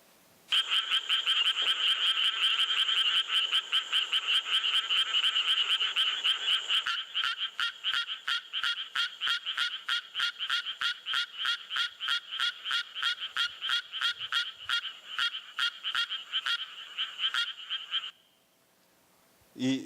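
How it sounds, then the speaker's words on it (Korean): A Suwon tree frog calls from the middle of a rice paddy in a long, rapid train of loud, rasping pulses, speeding up and then continuing steadily for about eighteen seconds before stopping abruptly. "이 수원 청개구리가 지금 노래하는 모습이고요"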